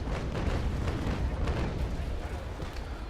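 In the naval battle game Naval Action, a brig's 6-pounder long cannons fire in a rolling barrage, a dense, continuous rumble of booms with no clear gaps, loud and close, with no talking.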